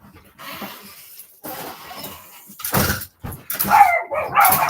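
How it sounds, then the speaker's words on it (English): A pet dog barks in a series of sharp, fairly close barks separated by pauses, with a few whimpering yips among them, heard alone in a quiet room. "He might just bark at random spots."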